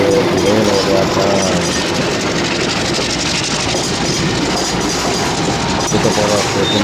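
A Pakistan Railways GRU 20 locomotive hauls a container train near a station, a steady loud diesel engine drone with rolling rail clatter, continuous and close throughout.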